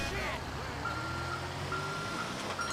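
Reversing beeps from a tow truck in GTA Online, a steady repeating electronic beep pulsing about every half second over a low engine rumble, with game background noise throughout.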